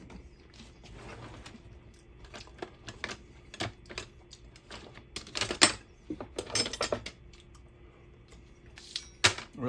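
A knife works through tender smoked pork belly, giving irregular clicks, scrapes and taps of the blade against the board, scattered and uneven, louder in bursts toward the middle and end.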